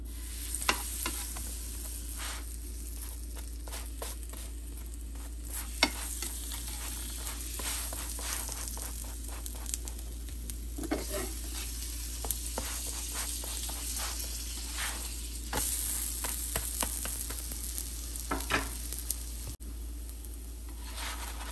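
Squash paratha frying in oil and butter on a pan, a steady low sizzle with intermittent crackles and spatula scrapes, fairly quiet and without talk.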